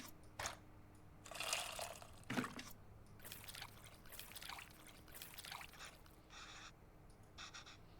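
Water pours and trickles into a bowl of tamarind in a kitchen scene from the video game Venba, coming in several short splashy bursts separated by pauses, fairly soft and close with no talking.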